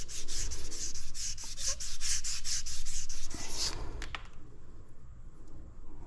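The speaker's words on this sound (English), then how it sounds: "You could sand on this for the next year and you'd hardly make a dent in it." Hand sanding a hardened tool-steel part from a Delphi 670/680 steering gearbox, a rhythmic series of close, brisk rasping strokes for about three and a half seconds, then quieter scattered scrapes.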